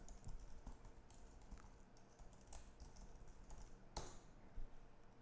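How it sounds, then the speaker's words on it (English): Rapid keystrokes on a computer keyboard while a material search path is typed in, a steady patter of clicks with one sharper, louder tap near the end. "You just have to manually type in this material search path."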